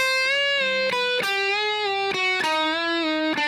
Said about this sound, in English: We're going to bend that 8th fret up to the 9th fret pitch.